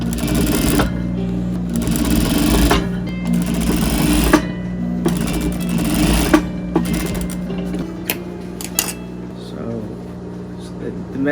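A domestic sewing machine runs steadily while stitching a fabric face mask at home, its loud mechanical whir and rapid needle chatter continuing in long runs with brief pauses, a voice speaking over it.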